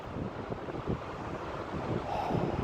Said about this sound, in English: The same with the sound of the waves in the sunset so far